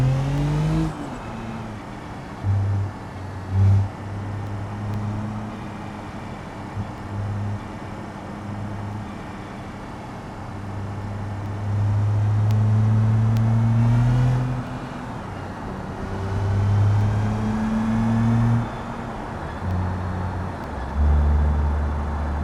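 Simulated car engine in BeamNG driving along at cruising pace, with shifting engine tones that rise and fall through gears, revving up and easing off across a steady drive, no talk.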